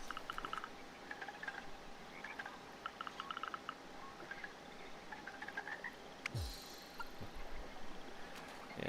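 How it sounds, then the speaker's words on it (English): A frog croaks in the video game Caravan SandWitch, a few soft, repeated croaks rising faintly over a steady outdoor ambience, with a brief low whoosh near the end. "Frog!"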